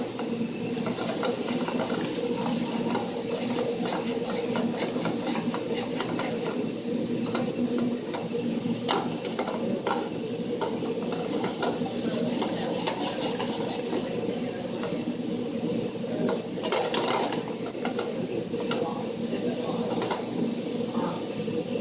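Food sautés in butter in a pan with a steady, close sizzle and hiss. Occasional stirring scrapes sound through the unbroken frying noise.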